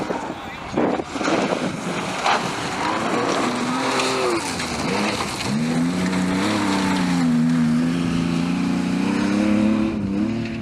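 A Tuttle-prepared Porsche 911 rally car on a stage of the Mid Wales Historic Rally in 2005 revs hard and climbs through the gears, its engine note rising and holding steady while a commentator talks over it.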